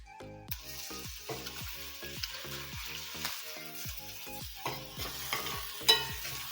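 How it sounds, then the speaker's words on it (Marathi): Chopped green chillies and tomato sauté in a pan over low heat, a steady close sizzle broken by rhythmic scraping strokes of a spoon stirring about twice a second, with no talking. "मिरच्या एखादं मिनिट परतल्यानंतर त्याच्यामध्ये पाव कप बारीक चिरलेला टोमॅटो"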